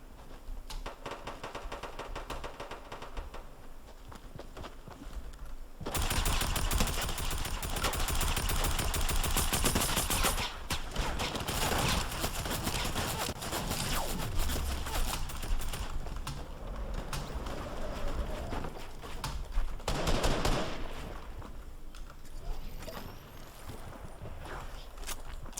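Gunfire from a Fortnite match, with rapid bursts of automatic shots crackling in dense clusters over a long stretch amid busy game sounds, fairly loud and mostly without talking.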